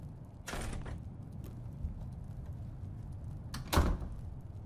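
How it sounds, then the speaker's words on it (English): A bedroom door in a quiet room opens with a soft thump and creak, followed moments later by a second, sharper knock-like bump, against a low background hush. "Suddenly the door to your room opened"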